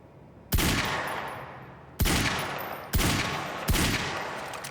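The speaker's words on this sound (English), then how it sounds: "Heavy pistol." Heavy pistol in the Quantum Break video game, four loud, sharp shots spaced about a second apart, each with a booming decaying tail, close and alone with no talk.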